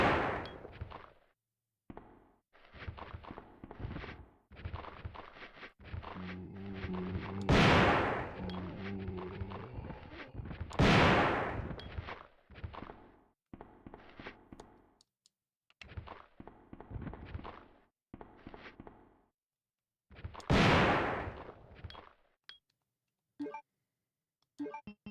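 Shotgun blasts aimed at zombies in Resident Evil 2 on the N64, several sharp booming shots spaced seconds apart, mixed with game noises and groans between them, loud and close.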